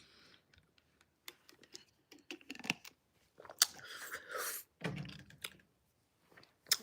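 Close, quiet chewing of food with irregular wet crunches and clicks separated by silent pauses, growing busier midway.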